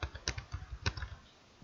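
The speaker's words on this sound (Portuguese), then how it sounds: "Então, digitei educação e pressionei o Enter do teclado." Typing on a computer keyboard while working in an Excel spreadsheet, with a handful of close, crisp key clicks in quick succession, one firmer tap standing out like the Enter key, then quiet.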